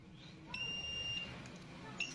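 A multimeter on its buzzer continuity setting, testing a regulator, gives one steady high electronic beep of about a second and then a brief second chirp, fairly faint over a low background hum.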